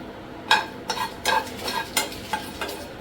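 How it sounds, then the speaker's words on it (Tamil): Dry red chillies, cinnamon, cardamom, cloves and cumin seeds frying in a pan, with soft sizzling under repeated scraping stirs of a spoon at a steady, uneven rhythm, close and fairly quiet. "நல்லா வறுத்துக்கலாம்."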